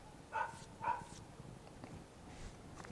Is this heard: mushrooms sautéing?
no